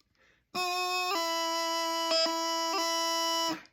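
A bagpipe practice chanter sounds a sustained, bright reedy E note with a few quick grace-note flicks of an E strike breaking it, then stops.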